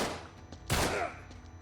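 A burst of rapid gunfire in the video game Uncharted 3: Drake's Deception, a loud sharp volley close up over a steady game background hum, with no voice.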